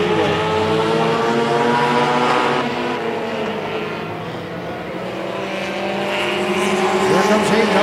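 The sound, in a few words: race cars racing at Tomah-Sparta Speedway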